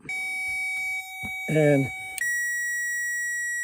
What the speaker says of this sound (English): You're gonna use a backup alarm.